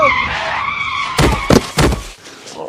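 A car brakes hard with a harsh tire squeal and skid, loud and close, with a few sharp bursts of noise before it comes to a stop.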